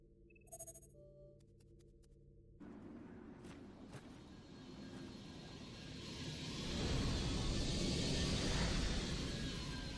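The Super 35 aircraft's engine in the game Vanquish swells from a steady roar into a loud, broad rushing wash, preceded by short electronic beeps and chimes.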